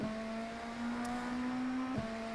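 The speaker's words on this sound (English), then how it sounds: "I can push full throttle and let it float out to the right" A race car engine holds full throttle in a racing simulator at Watkins Glen, a steady droning tone that rises slowly, then dips briefly as it shifts and carries on.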